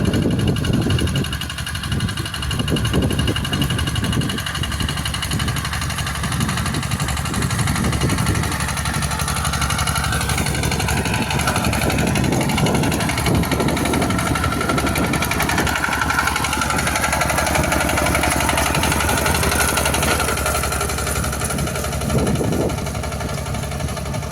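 A small field tractor works farmland in Bonagung, Wonodadi, its engine running steadily throughout, close and continuous, with some mechanical clatter and faint background voices.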